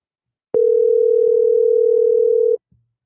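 A steady telephone dial tone sounds loud and alone for about two seconds after a caller hangs up, then cuts off, followed by a faint brief click.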